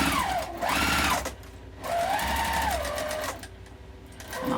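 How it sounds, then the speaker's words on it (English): A domestic sewing machine runs in two steady bursts as it back-stitches quilting fabric at a corner of a wallet made from fat quarters, whirring close and loud with a short pause between runs and no talk. "I like to back stitch at the corners, go a little bit over and back stitch to where I'm going to go"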